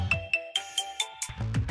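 Short repeated electronic chime pattern from a phone receiving a text alert sent by a Nexar dash cam, several bright rising tones in quick succession, close and clear with no talking.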